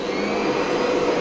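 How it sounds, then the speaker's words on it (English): A vacuum cleaner used for carpet cleaning runs with a loud, steady whine and airy roar, continuous and close, with no talking. "I'm going to turn our vacuum cleaner on."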